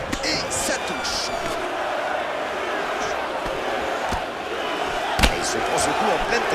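In the UFC 3 game on PS4, Nate Diaz and McGregor trade blows, and a sharp punch lands with a single loud thud over steady arena crowd noise, with a few other smacks nearby.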